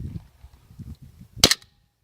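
A Hi-Capa 5.1 airsoft pistol fires a single sharp, loud crack with a brief ringing tail, set against a faint low rumble of background noise.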